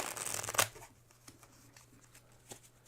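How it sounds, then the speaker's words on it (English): Playing cards are shuffled by hand during a tabletop board game, giving a short, close riffle that ends in a quick flutter, followed by faint handling noises in a quiet room. "I tried to shuffle as best as I could."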